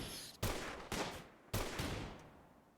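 Gunfire in the colony game Rimworld, with three distinct sharp shots spaced about half a second to a second apart, each decaying quickly, moderately loud with no talking over them.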